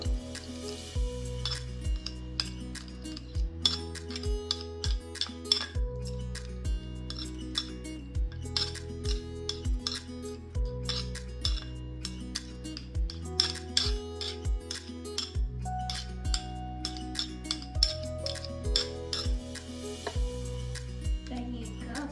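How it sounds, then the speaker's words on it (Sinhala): Tomato sauce and white sauce being stirred together in a bowl with a spoon, a steady run of close clinks and scrapes against the bowl with soft wet mixing sounds, no one talking, in a home kitchen making chicken shawarma. "දැන් අපි අර ටොමැටෝ සෝස් එකයි වයිට් සෝස් එකයි මේ විදිහට හොඳට මික්ස් කරනවා"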